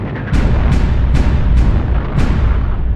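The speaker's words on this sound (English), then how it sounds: "the ships open fire" Naval guns on the destroyer USS Laffey firing in a rapid series of heavy booms, roughly one every half second, over a dense, continuous rumbling roar.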